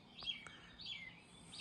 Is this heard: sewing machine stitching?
no